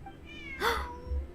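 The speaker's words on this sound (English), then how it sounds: "Look, a cat." A single short cat meow in Genshin Impact, clear and fairly close, rising then falling, over a low ambient game background.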